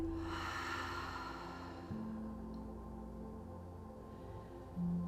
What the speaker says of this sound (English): Sweet breath out.